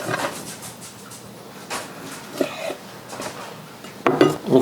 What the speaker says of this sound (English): Now these are the 2 pork tenderloins I cooked, and I'm going to slice them up a bit